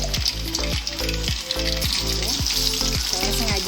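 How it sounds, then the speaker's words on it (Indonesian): Jangilus fish sizzles loudly in hot oil with a constant crackling hiss, fried piece by piece, while a voice speaks intermittently underneath. "Kita goreng satu persatu"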